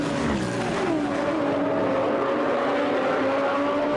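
A Ferrari GT3 race car engine roars loudly and steadily at Zandvoort, its pitch sliding in sustained high-revving tones with a faint tire squeal, continuous and close throughout.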